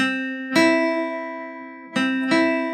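A guitar chord rings with a thin, buzzy muted quality from a finger touching the high E string, restruck three times with sustained decay between strums, no talking.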